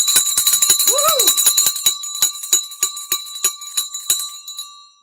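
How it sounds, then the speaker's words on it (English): A bell for the stock market close rings repeatedly in a fast, bright, metallic rhythm for several seconds. It is loud and close, and a brief voiced exclamation rises over it early on. "Good old Wednesday bell time."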